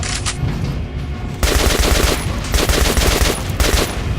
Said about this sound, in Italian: Ora spara al bersaglio corazzato